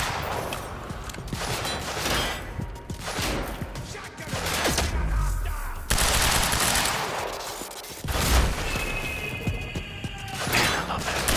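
Gunfire in the video game Quantum Break, with bullets slowed down in time, sounding as dense bursts of thuds and cracks with whooshing, warped textures, loud and continuous throughout.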